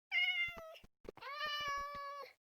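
Cats in the video game Minecraft give two drawn-out, tonal meows, close and clear, separated by a short gap with faint clicks.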